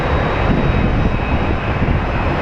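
A large airliner coming in to land at Phoenix Sky Harbor, its engines a steady, loud broadband roar that fills the whole short stretch without letup.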